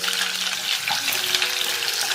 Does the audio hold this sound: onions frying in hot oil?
yes